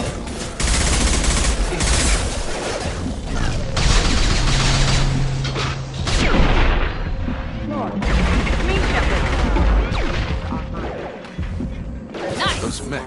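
Sustained gunfire rattles through a battle in the video game Mass Effect 2 against hostile mechs, loud, dense bursts with crashes and impacts over several seconds, while voices talk over the combat.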